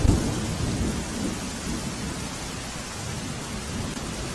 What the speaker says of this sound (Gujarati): બનાસકાંઠાના અમીરગઢમાં ભારે વરસાદ પડી રહ્યો છે